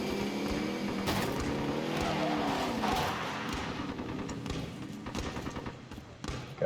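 A vehicle in Call of Duty Warzone drives along with a steady droning engine, low rumbles and tyre noise, and occasional knocks and thumps at close range.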